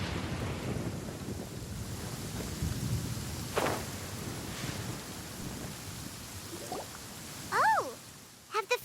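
A thunderstorm rolls through a Genshin Impact game scene, with steady rain and wind rumbling throughout, a faint thunder crack midway and a brief swooping effect near the end, no voices over it.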